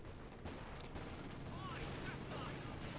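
Gunfire crackles through a Company of Heroes 2 battle as Obersoldaten infantry open fire, a steady burst of distant rifle and machine-gun shots under a faint voice.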